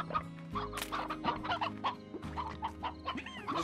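A chicken clucks repeatedly in the video game Slime Rancher, a string of close, busy clucks and short squawks over a low sustained background hum.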